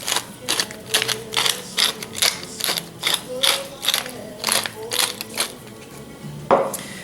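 A pepper mill grinds cracked black pepper over chicken breast in a rapid series of close ratcheting cranks, about a dozen twists in an even rhythm, ending with a louder clunk as the mill is set down.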